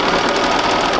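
A sewing machine runs fast and loud on a long basting stitch through a quilt block, a dense, steady mechanical whir and needle clatter held close and unbroken.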